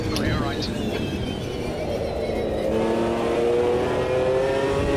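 A McLaren GT1 race car in Automobilista 2 at Watkins Glen roars loudly and close, its engine tone sweeping up as the revs build under acceleration. Sparse background chatter sits beneath it.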